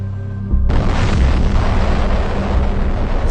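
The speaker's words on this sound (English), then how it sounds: "the United States drops a second atomic bomb" Atomic bomb explosion sound effect: a sudden, very loud blast that rolls into a sustained, dense roaring rumble filling the rest of the moment.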